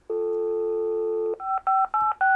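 A Panasonic DECT 6.0 KX-TG175C cordless phone speed-dials a stored number: a long steady tone, then four crisp, evenly spaced keypad beeps, clean and close.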